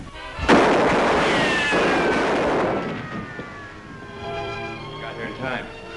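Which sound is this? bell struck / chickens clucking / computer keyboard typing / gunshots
gunshots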